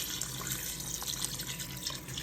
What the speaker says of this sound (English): Now I'm going to cover this with enough water to cover up the beef.